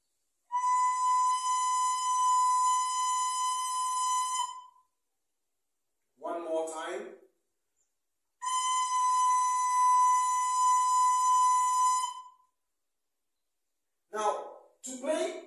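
A descant recorder sounds note B twice as two steady, clear tones of about four seconds each, and someone speaks briefly between and after the notes.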